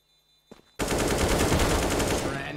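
Gunfire in Counter-Strike: Global Offensive: after a near-silent start and a brief click, a loud sustained burst of rapid automatic shots erupts and continues to the end.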